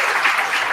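Audience applause for a speaker at a 2023 Toastmasters event, a steady dense clapping from a crowd that fills the room, even and unbroken throughout.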